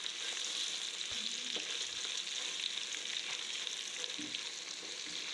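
Cashews stirred into an oily pan for a spiced dish, a steady close sizzle and crackle of frying with a few soft scrapes of the spoon against the pan, no talking.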